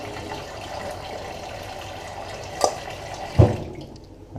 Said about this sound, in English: you gotta keep an eye on the rice noodles so that they don't overcook, and you want to drain them well